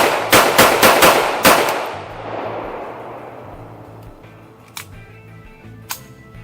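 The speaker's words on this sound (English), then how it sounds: "Let's see if we can't put a few rounds through a rubber dummy here." .32 ACP Xtreme Cavitator rounds fired from a handgun into a ballistic gel dummy at an outdoor range: five loud, sharp shots in quick succession that ring out and decay, followed later by two faint clicks.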